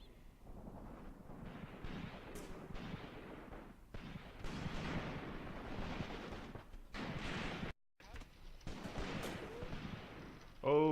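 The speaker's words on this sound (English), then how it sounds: "they just shot me down with the artillery" Artillery fire in the tank-warfare game Graviteam Tactics: a string of heavy booms and rumbling blasts rolls on over several seconds, loud and dense, with a brief dropout near the end.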